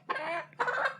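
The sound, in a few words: baby chicken clucking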